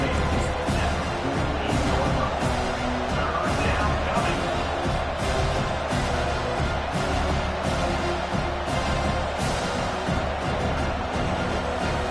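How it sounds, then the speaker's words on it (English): A college football stadium crowd roars steadily as fans cheer on the defense on third down, a dense, unbroken wall of noise for the whole stretch, with commentators' voices blending underneath. "Decibels rising as the crowd gets behind this defense on third down."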